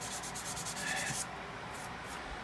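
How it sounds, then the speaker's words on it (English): Sandpaper levels an aerosol finish on a Telecaster guitar body with a steady, close, raspy rubbing that runs throughout, brighter strokes in the first half easing into a softer, even scrape. "I'm just trying to level sand this here"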